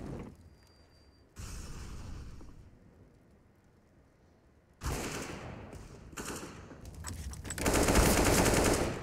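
Gunfire in the video game CS:GO comes in several bursts of rapid automatic fire, separated by quieter gaps, with the loudest and densest burst at the end.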